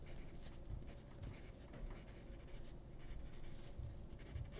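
A clutch pencil with a thick lead scratches across paper in soft, irregular strokes, quiet and close, with no voices.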